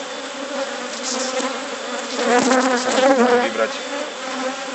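Honeybee colony buzzing during queen replacement in an open hive, a dense, close, continuous drone swelling louder midway, with a brief spoken word over it.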